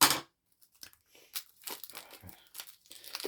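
Marvel United card packs being torn open by hand, a sharp rip of wrapper at the start followed by scattered crinkling and crunching of packaging, close and fairly quiet with no talk.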